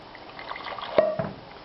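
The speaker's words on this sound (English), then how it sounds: "we're going to need to add some more water to this as it cooks" Water is added bit by bit to a thick Swiss-style chana masala simmering in a pot, a short soft splash and trickle with a couple of small drips, close and quiet, no talking.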